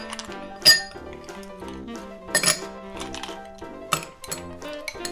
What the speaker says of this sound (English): the first thing I'm going to do is fill my Collins glass with ice